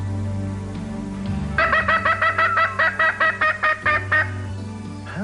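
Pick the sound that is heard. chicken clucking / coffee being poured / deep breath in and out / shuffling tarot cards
chicken clucking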